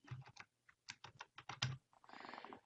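Fingers tapping out a message on a computer keyboard, a quick run of separate clicks, then a short pause and a faster burst of keystrokes close by.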